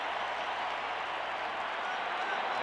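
Crowd at a 1987 World Series baseball game, Cardinals at Twins in Minnesota, roars and cheers in a steady, dense wash of noise with a faint announcer-like voice buried underneath.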